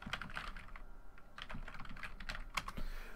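Quick bursts of keys clatter on a computer keyboard, irregular clicks and taps in short runs with brief pauses, close and alone.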